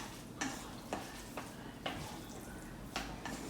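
Kimchi being mixed into cold noodles in a bowl, a soft, wet stirring with several light clinks of a utensil against the bowl at irregular intervals, quiet and close with no talking.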